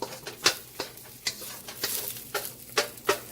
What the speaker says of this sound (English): So all I do here is basically just move it over to the other side of the pan